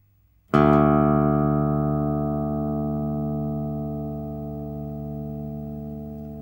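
Bass guitar open D string plucked once, a single low sustained note with a clean attack that rings on and slowly fades, alone without any voice.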